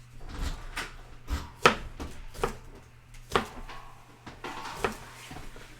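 A knife chops ingredients on a cutting board with about eight crisp, separate strikes at an uneven pace, close by, over a low steady hum.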